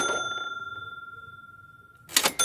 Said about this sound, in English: But Big Brother Sam was playing with his toy cash register.